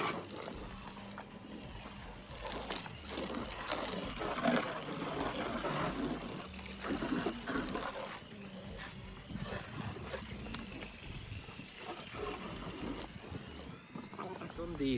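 Pressure washer rinsing snow foam off a car outdoors in direct sunlight on a roughly 20-degree day: a loud, continuous gushing spray that surges and eases throughout.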